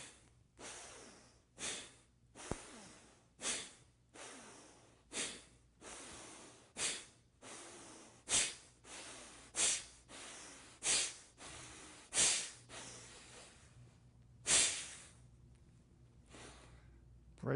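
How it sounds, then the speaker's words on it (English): Steady breathing in and out during a tai chi session, a dozen or so rhythmic breath pulses, close and fairly loud, with a sharper exhale near the end and no talking. "Exhale, inhale."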